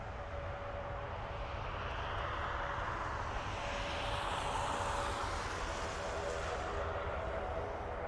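An airliner departing Dublin Airport, its jet engines a steady, loud broadband roar that swells slightly toward the middle and holds throughout.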